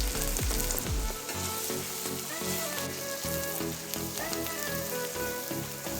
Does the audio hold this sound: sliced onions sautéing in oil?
yes